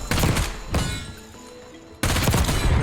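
FFAR 1 rifle in Black Ops 6 firing in loud rapid automatic bursts, one burst opening the clip and another returning after a brief quieter lull.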